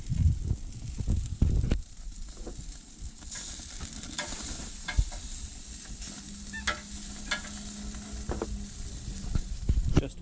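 Lamb chops frying in a pan, a continuous close sizzle and hiss with occasional scraping and clinking as the meat is stirred or turned, growing steadier after a few busier opening seconds.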